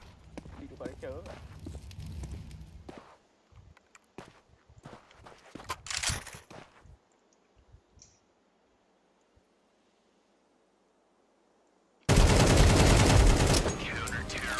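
Counter-Strike 2 gunfire in a match, clusters of sharp shots and rapid bursts mixed with footsteps, fading into near silence before loud overlapping talk begins at the end.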